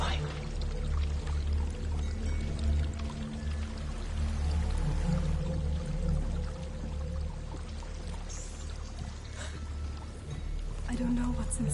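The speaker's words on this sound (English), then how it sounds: "There's a waterfall" A waterfall in the video game Hellblade: Senua's Sacrifice pours in a steady, dense rushing roar, with voices talking over it throughout.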